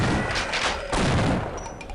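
Bursts of gunfire from a weapon in the Half-Life video game, two loud, dense volleys about a second apart with rattling decay, no talk.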